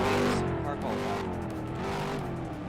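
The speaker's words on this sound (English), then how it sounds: "We are now green on the racetrack for 1 car." A single race car pulls out onto the track during heat qualifying, its engine droning loudly and shifting pitch as it moves off, with a commentator's voice talking over it.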